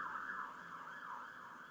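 Wailing emergency siren heard on a South London street, rising and falling steadily in a continuous loud sweep from a passing police car, with no talk over it.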